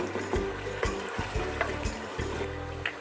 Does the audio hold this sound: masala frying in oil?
yes